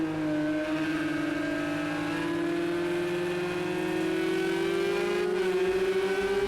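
Porsche 911 GT3R 24-hour edition engine in a racing video game, a steady close whine that climbs slowly in pitch as the car accelerates, with no talk.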